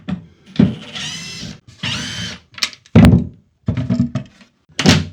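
Wooden cabinet doors being taken off a cabinet, with a series of separate thunks and knocks at an irregular pace, some louder and closer, each followed by brief rattling, with no talk.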